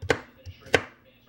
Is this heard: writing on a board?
no